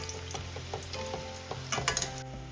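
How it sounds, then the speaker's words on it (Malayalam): Ivy gourd pieces fry in hot oil, crackling steadily with brief stirring clinks and a busier sizzle near the end. "അപ്പോൾ ഇതുപോലെ തന്നെ ബാക്കിയിരിക്കുന്നത് നമുക്ക് ഫ്രൈ ചെയ്തെടുക്കാം"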